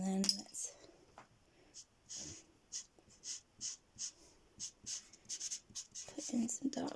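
A pen or pencil scratches across paper in short, regular strokes, a dozen or so quiet rhythmic scrapes close by, with faint breathing and no clear speech.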